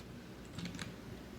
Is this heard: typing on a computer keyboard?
yes